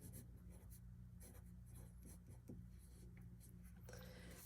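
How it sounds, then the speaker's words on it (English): Pencil or pen scratching out a name on the inside of a folded paper, a run of short close scribbling strokes in irregular bursts, with no talk over it. "I'll open up the inside and I'll write my name on the inside"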